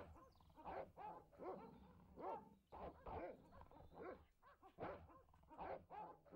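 Dogs in the video game Broken Sword: The Shadow of the Templars bark and yip in a steady, repeated series of sharp calls, continuing for several seconds at a low level.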